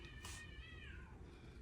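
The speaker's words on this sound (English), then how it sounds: "And that cat needs to quit." A cat lets out a single drawn-out meow indoors, faint and somewhat distant above a low background hum, with no speech.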